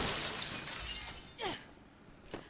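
Glass shatters with a sharp crash and shower of fragments inside a video game kidnapping scene, followed by a second, fainter breaking burst a moment later, all without talk.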